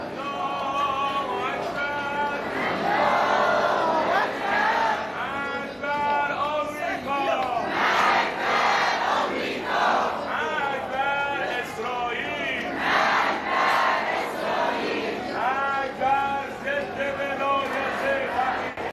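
A large crowd at Ayatollah Ali Khamenei's funeral in Qom and Tehran, with loud, continuous massed voices chanting and shouting in rising waves throughout.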